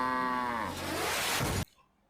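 Cowbot, the cow from the Sonic Boom cartoon, lets out a long, loud, drawn-out moo that falls in pitch and breaks into a rough, noisy bellow before stopping abruptly.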